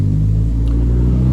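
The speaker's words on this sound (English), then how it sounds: "when I press it, the car starts cranking" A VW Beetle engine cranking on the starter button, a steady low rumbling drone throughout, close and loud, with no talking.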